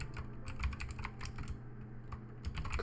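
Fast, steady typing of code on a computer keyboard, light crisp key clicks in quick irregular runs, close and fairly quiet over a low background hum.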